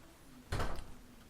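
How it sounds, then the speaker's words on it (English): A door swung shut in a room, one brief muffled thud with a short rattle that fades quickly against a low background hum, and no voices over it. "Get over here and close this door."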